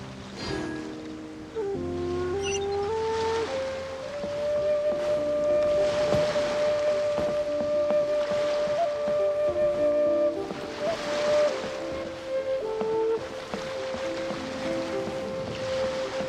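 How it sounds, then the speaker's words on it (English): Calm ocean waves wash steadily beneath a sustained tonal drone and a mix of game-like ambience, a continuous rolling wash of surf with no speech. "The waves are as calm as always."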